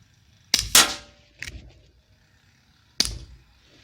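A Colt Single Action Army revolver fired at a 25-metre range: two sharp, loud shots about two and a half seconds apart, each followed by a short echo, with a faint clank in between.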